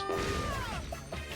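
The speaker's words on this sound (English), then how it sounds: "I'm gonna smash everything up here" Blocks smashed in Super Mario Bros. Wonder, a loud, close crunching impact followed by a descending whistling game tone and a couple of short bright pops, with no talking.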